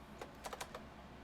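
A handful of quick keystrokes on a computer keyboard, close and quiet over a steady background hiss, lasting about a second.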